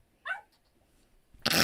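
Sergeant the dog gives one short, close bark, followed by a pause and then a louder burst of broadband noise.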